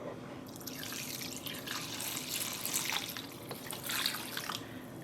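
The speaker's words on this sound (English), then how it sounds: "I'm gonna add enough water to cover the yarn" Water pours and trickles steadily into a shoebox holding scrunched neon single-ply yarn for dyeing, a continuous close splashing flow with no talk.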